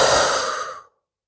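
A long, audible exhale through the mouth during a yoga flow, breathy and close, fading out over about a second with no talk.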